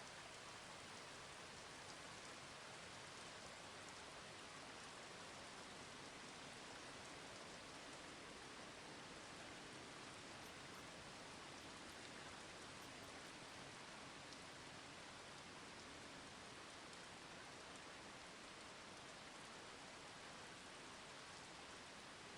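Steady rain falls in a cool, rainy setting, a soft continuous hiss of drops with an even, unbroken texture, faint and distant throughout and free of voices.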